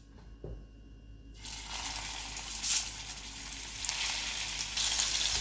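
Meatballs dropped into a hot pan burst into a bright, rising sizzle after a brief quiet start, the frying growing louder and fuller with a few soft clicks of tongs.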